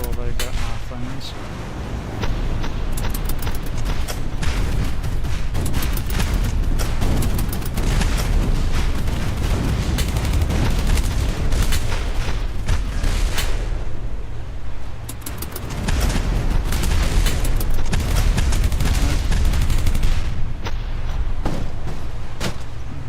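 Gunfire and cannon blasts from a boat crew firing on an enemy ship fleet in the naval game Boat Crew, a dense, continuous barrage of booms and bursts lasting throughout, with a voice talking over it.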